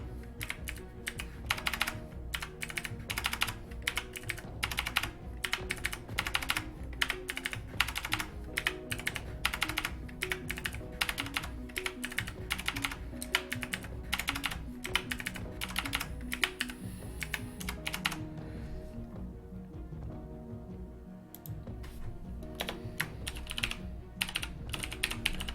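Rapid, continuous clacking of a mechanical keyboard as someone types at length, with brief pauses and a short quieter lull, over a low background hum.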